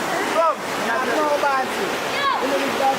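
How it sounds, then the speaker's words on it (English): Jamaica's Rowan River flowing steadily, a continuous close rush of water with chirping birds or high calls layered over it throughout. "I don't know how they're going to deal with the sounds from the river."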